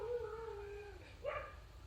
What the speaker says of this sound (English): Do you listen to that dog?